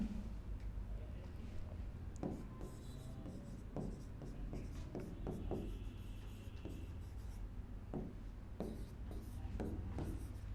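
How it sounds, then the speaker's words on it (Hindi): Chalk or marker scratches across a classroom board in a long run of irregular taps and strokes, close and moderately loud over a steady room hum. "यहां हम लिख देते हैं"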